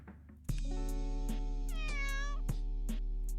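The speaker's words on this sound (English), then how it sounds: "This fucking cat sounds so damn real." A lifelike cat meows in a video game, several close, clear meows over a steady low hum, one long rising-and-falling call in the middle among shorter ones.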